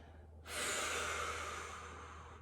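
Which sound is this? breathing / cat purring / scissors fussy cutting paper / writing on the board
breathing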